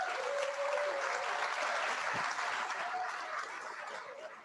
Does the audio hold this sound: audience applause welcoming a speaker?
yes